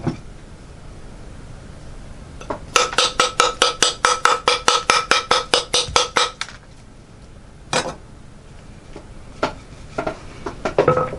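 A knife chopping into Argentine Lignum Vitae wood during a high-alloy edge test: a rapid, even run of about twenty sharp, ringing strikes, then a few scattered single chops, close and loud with no talking.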